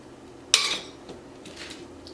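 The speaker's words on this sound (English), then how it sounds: "Get all these out of the pans." One sharp metallic clink as brownie bites are lifted from small removable-bottom tart pans, fading into faint light clatter and handling noises; no one speaks.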